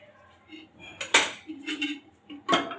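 Ghee spooned into an empty cooking pot for a bhindi recipe: soft metallic clinks and scrapes of spoon against pot, a few separate knocks, close and fairly quiet.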